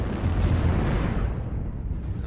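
Short-range missile salvos from a Kintaro mech in MechWarrior Online detonate as one loud, continuous rumbling blast that fills the moment, then slowly thins out toward the end.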